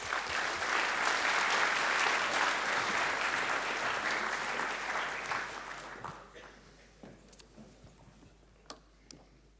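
An audience claps to welcome a lecturer onto the stage, full and steady at first, then thinning into a few scattered claps before fading out.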